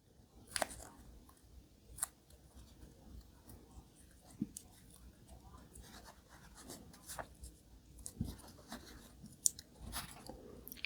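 Tape being handled and torn or cut while building a custom diecast model with a popsicle stick, heard as scattered close crinkles, snips and ticks with quiet pauses between them and no talking.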